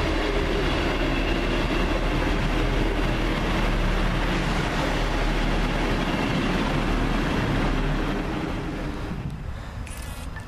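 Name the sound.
First Great Western class 158 train arriving at station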